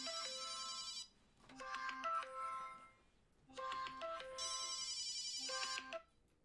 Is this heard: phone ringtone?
yes